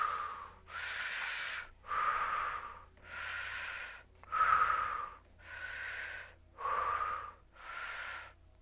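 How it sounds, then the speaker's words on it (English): Deep rhythmic breaths during a chair yoga session, eight slow loud inhale-exhale cycles in a steady even rhythm, close and breathy with no talking. "Keep breathing."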